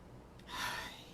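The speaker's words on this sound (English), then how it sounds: "I'm going to take a moment to breathe and choose to be okay." A single slow, deep breath, airy and soft, swelling in the middle of a short quiet moment and fading out, close and alone with no talk.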